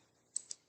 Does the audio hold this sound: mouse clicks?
yes